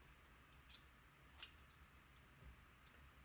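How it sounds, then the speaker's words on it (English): Scissors snipping through T-shirt fabric to cut it into strips: a few faint, sharp snips spaced apart, one slightly louder, in an otherwise quiet room. "So I'm going to cut this up into 2 strips again."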